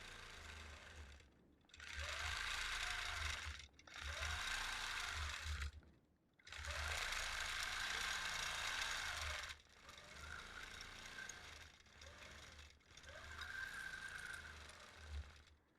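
A quilting sewing machine stitches a continuous curve in bursts, its steady mechanical whir running for a few seconds, pausing briefly, then starting again, close and fairly even in loudness.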